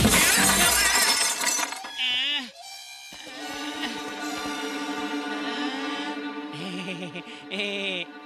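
Glass shatters loudly during a fight scene in a Tamil-dubbed South Indian action film, a sharp crash at the start that trails into tinkling debris, followed by shouting voices and dramatic background score.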